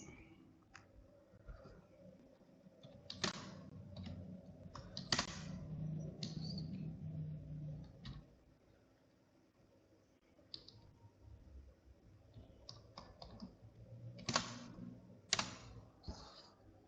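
Quiet clicks of Python code being typed on a computer keyboard, scattered irregular keystrokes in short bursts with pauses, faint and close against low room hum.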